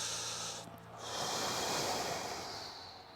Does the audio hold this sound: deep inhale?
yes